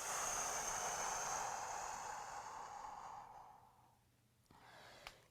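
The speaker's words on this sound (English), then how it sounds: "slowly start sitting down with a nice big deep breath" A long, close exhale during a Pilates stretch, a strong breathy rush that slowly tapers over several seconds into quiet, followed by a faint short sniff near the end.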